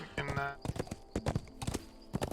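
Horse hooves clip-clop in the Cormyr: King's Forest video game, with quick uneven clopping steps close by and a short whinny at the start, some steps ringing brighter than others.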